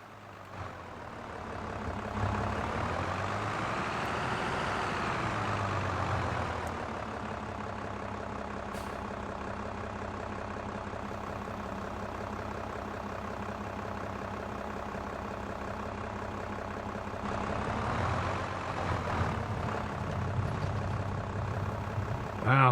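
A tractor engine in a farm simulator game runs steadily and loud for the whole stretch, a low heavy drone that swells as it revs up near the start and again toward the end.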